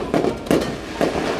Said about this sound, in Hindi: पोपो पटाखे, ये देख ऐसे फोड़ते इसे